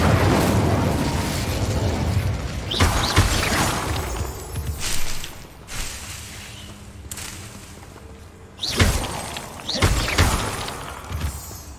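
Fire spell cast against Devil's Snare in Hogwarts Legacy, giving bursts of whooshing flame and crackle: a sharp blast near three seconds, more flares around five and seven, then two strong bursts near nine and ten seconds over a steady game ambience.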